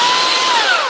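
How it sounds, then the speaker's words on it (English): A battery-powered chainsaw whines steadily and loudly at high revs, its motor pitch sliding slightly downward toward the end of the short burst. "I didn't know they made battery-powered chainsaws"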